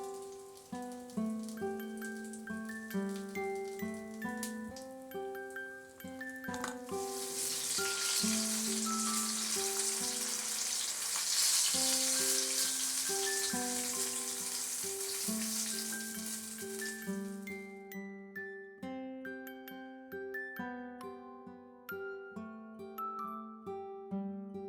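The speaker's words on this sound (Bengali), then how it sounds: "উল্টে পাল্টে আমি ফিশ মুনিয়া ভালো করে ফ্রাই করে নিলাম।" Bengali wedding-style fish munia, a battered fish fry, crackles and sizzles in hot oil, a loud, steady hiss lasting about ten seconds with background music playing throughout.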